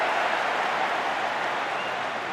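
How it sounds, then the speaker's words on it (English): The Cork crowd at a Cork v. Tipperary Munster senior hurling championship match gives an ironic cheer, a loud, steady roar of many voices that holds for a couple of seconds. "that I think was an ironic cheer from the Cork crowd, who felt that was overdue"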